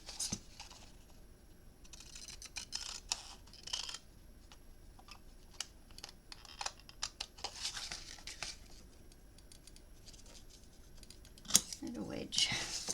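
Paper notecard for a quilter's box being cut by hand, a faint run of soft snips, crinkles and taps with a few louder bursts near the end, quiet and close.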